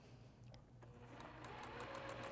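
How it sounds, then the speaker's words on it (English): A sewing machine stitches a sew-in tab onto a quilt's edge at about a quarter inch, its steady rapid mechanical whir running continuously and growing slightly louder, with no talking. "I'm gonna take it over to the sewing machine, and I'm just gonna sew right at 1/4 of an inch"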